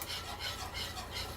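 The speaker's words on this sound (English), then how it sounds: "We're gonna go ahead and dump in our half a cup of flour, and we're gonna mix this on up" Flour is stirred into melted butter with a utensil, a near, rhythmic scraping and rubbing repeated in about four strokes with no talking.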